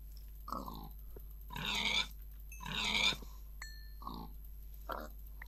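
Pigs in Minecraft grunt and snort in several short bursts, some longer and rougher than others, over a steady low electronic hum.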